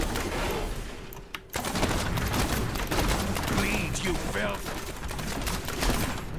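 Rapid gunfire from a Demon Hunter attacking enemies in Diablo 3, a dense, continuous barrage of shots and impacts over busy game effects, with a brief dropout before the firing resumes.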